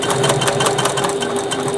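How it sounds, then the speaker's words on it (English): A sewing machine runs steadily, stitching within the seam allowance of a handmade bag, with a continuous close whirring hum and no pauses or talk. "stitching within the seam allowance, just quickly add it like this"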